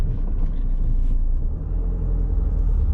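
Steady low road rumble inside a moving car, a constant deep drone of tyres and engine filling the cabin with no voices.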